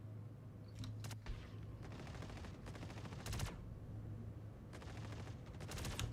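Bursts of automatic gunfire in a multiplayer shooter game, several rapid volleys separated by short pauses, crisp and fairly close, with no talking.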